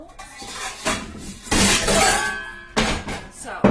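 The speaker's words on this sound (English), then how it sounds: "let's get the bowl out" A bowl is taken out in a kitchen while preparing a bacon and leek quiche, with clattering and clinking of dishes in several loud bursts close by.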